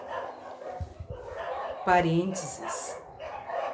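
Street dogs bark and yelp a short way off, a burst of sharp barks with a whining tone, while a person reads aloud nearby and briefly pauses.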